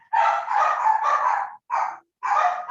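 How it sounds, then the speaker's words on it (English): A dog barks in a few quick bursts in the background of a video call, clear and somewhat muffled, with short pauses between barks. "so there is a dog barking somewhere"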